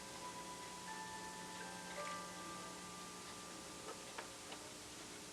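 Mechanical clocks tick faintly in a quiet setting, producing a few light, scattered clicks over a steady background hiss and hum.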